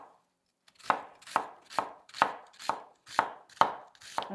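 A knife chops thin onion slices on a board in a steady rhythm of eight crisp, evenly spaced strokes, close and distinct against silence, each cut ending with a light knock.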